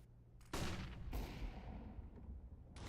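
Gunfire in the video game CS:GO as shots are fired through walls: two heavy, booming bursts close together, with a rumbling tail and no talk.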